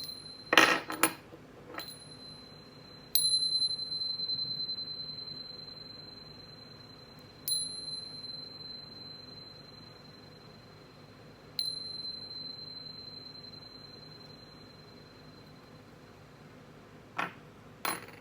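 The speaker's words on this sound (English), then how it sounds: "But first, let's chime." Meditation chimes rung before a reading, a cluster of bright metallic strikes at the start, then single clear rings at roughly four-second intervals with long sustained shimmering decay, and a final pair of strikes near the end.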